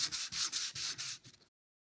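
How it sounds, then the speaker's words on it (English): Hand sanding of a wooden Chippendale chimney piece: rhythmic back-and-forth rasping strokes, about six close, even passes, then the sound stops. "I'll just sand the whole piece"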